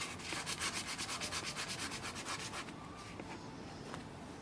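A dry, clogged HP ink cartridge rubbed against a cloth to clear it, giving a quick rhythmic scratchy rubbing of about a dozen strokes, then a softer steady scrape, close and quiet.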